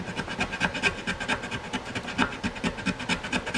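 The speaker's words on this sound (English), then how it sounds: "I'll take my little double cut file and I'm going to cut some off of the bottom here" Double cut file rasping the bottom of a hole in a wooden guitar body, a steady run of close, rhythmic back-and-forth strokes with no talking.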